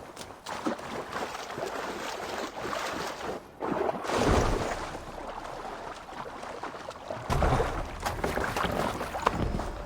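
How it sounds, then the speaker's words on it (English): A Viking longship moving across open water in Assassin's Creed Valhalla, with a steady wash of water against the hull, wind and creaking, swelling louder midway and again near the end, no talking. "let's go ahead and take the long ship here, actually"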